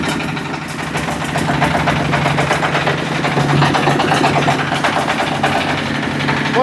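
A diesel engine on a three-wheeler generator runs steadily at idle, a loud, close, continuous rumble with a knocking, vibrating throb and no pauses.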